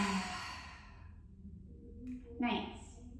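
A slow, audible exhale through an open mouth during a mat Pilates breathing exercise, a soft airy breath followed by a brief second puff, with an instructor's voice faintly present.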